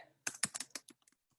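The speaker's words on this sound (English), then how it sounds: "I'm a terrible typist, so don't mind my typing skills." Computer keyboard typing during résumé editing in Google Docs, a quick burst of key clicks that loosens into scattered, fainter taps before trailing off, close and clear with no talking.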